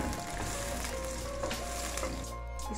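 Finely chopped onion fries in hot oil with a steady, dense sizzle, close and even throughout, with no talking over it.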